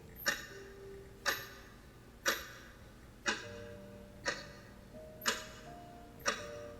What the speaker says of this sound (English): I could hear my watch ticking.